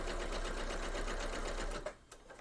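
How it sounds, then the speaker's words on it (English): A sewing machine stitches across a quilted Christmas tree skirt, running a fast, steady whir of needle strokes past a pinned seam line, then stopping abruptly near the end, leaving a brief quiet with a small handling click. "Then I'm going to stitch right past the seam line"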